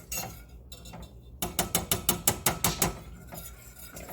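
Ingredients for homemade ultrasound gel being stirred in a pot on a cold stove: a quick run of about nine rhythmic scraping clicks, close and clear, with quieter stirring before and after.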